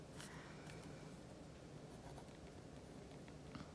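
Pen writing by hand in a Hobonichi Weeks planner, a steady soft scratching that runs continuously and faintly close by, with no voices.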